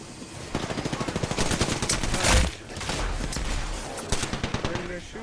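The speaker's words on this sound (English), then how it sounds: "Where are you guys shooting at?" Rapid gunfire in a tactical shooter video game, bursts of automatic shots with a loud blast midway, then a sustained rumble and more quick shot bursts, fairly close and dense.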